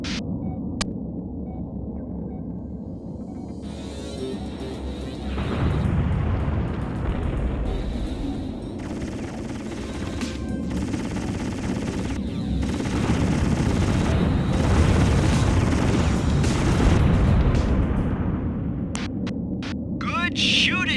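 Gunfire and explosions in the futuristic police-gunship game G-Police: rapid machine-gun bursts and booming blasts over a deep engine rumble, loud and sustained, with radio voices speaking over the action.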